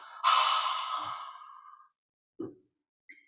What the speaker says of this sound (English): on the 30th breath, we exhale completely